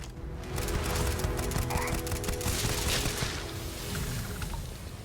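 Rapid bursts of gunfire in the Starfield video game crackle loud and close, dense volleys over the first few seconds that thin out toward the end, with background game noise.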